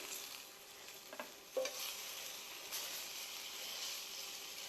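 Chicken pieces for chicken piccata sear in a hot pan, turned to brown on all sides; a steady, moderately loud sizzle with a few brief clatters of stirring and flipping, no voices.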